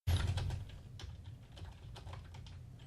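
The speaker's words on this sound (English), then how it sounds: "that chatter in the background, guys, was Blue typing in" Someone types fast on a computer keyboard a little way off, the soft key clatter running steadily and faintly over a low room rumble.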